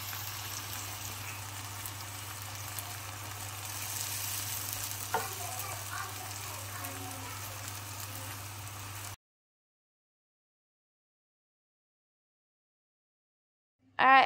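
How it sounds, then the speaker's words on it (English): Chicken pieces frying and browning in a hot pan give a steady close sizzle with light stirring scrapes for about nine seconds, then silence before a short loud burst at the end. "Then I'm going to add in my chicken at the end just for a quick heat through and a brown."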